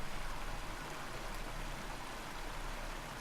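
Steady rushing waterfall ambience from the video game Eco, a broad continuous hiss of falling water at even loudness with no talk.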